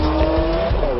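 A 2018 Lamborghini Aventador SV sports car accelerating hard, its loud engine note rising steadily with a dense, continuous roar and a faint tire squeal, close and unbroken throughout.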